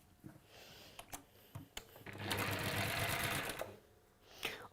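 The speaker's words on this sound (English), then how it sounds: "we're just going to stitch down one side" A sewing machine runs a steady stitching burst down one side of a fabric piece, preceded and followed by a few sharp clicks and knocks of handling, fairly close and with no talking.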